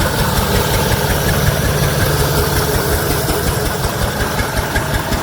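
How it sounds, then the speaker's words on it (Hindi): A farm engine running on cow-dung biogas while grinding flour, a loud, close, steady mechanical drone with rapid knocking pulses throughout and no speech. "ये पाइप है गोबर के, गैस से इंजन चल रहा है।"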